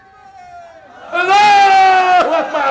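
A crowd at a religious gathering chants a slogan in loud unison, rising suddenly after a single voice leads, the massed voices sustained and close.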